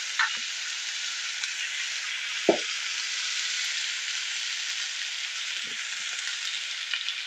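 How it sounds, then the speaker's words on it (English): A ham slice sizzles steadily in a hot frying pan, a constant bright hiss with a few soft pops and clicks scattered through it. "Now add the ham slice right into the pan."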